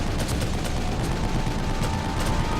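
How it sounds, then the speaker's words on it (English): Machine gun fire in The Evil Within pounds out as a dense, continuous stream of rapid bursts, loud and close for the whole short stretch, with no voices over it. "Come on, machine gun it."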